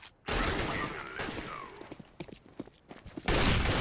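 Gunfire from an AWP sniper rifle in the video game Counter-Strike, with loud sharp bursts at the start and end framing a stretch of quieter clattering shots and impacts, no talk over it.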